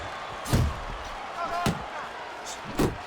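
Punches thud in the Fight Night Champion boxing game as Muhammad Ali throws overhand rights against Mike Tyson: three heavy, close impacts spaced about a second apart, heard under a commentator's voice and crowd noise.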